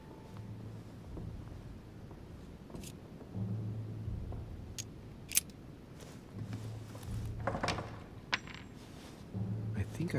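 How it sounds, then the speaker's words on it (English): A metallic key drops to the floor inside The Council, giving a couple of brief bright clinks near 5.3 seconds, faint against low ambient game music and background hum. "I think I heard something fall to the ground. A metallic sound, like a key falling to the floor."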